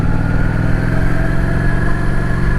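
A motorcycle engine runs steadily while riding on a tour through rural West Georgia, a continuous loud, droning rumble with wind noise and no obvious pauses or gear changes.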